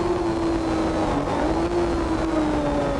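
Race car engine at the 1981 James Hardie Bathurst 1000, recorded from inside the car: a loud, continuous drone with a steady pitch that rises and falls slightly as it holds speed, with no voices.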